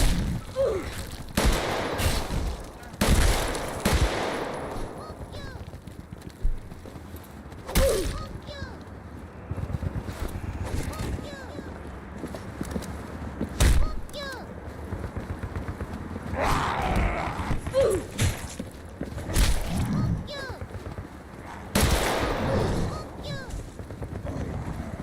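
Rapid gunfire bursts from a zombies video game crack out in sharp, repeated volleys across the stretch, mixed with game noise and a person talking over it.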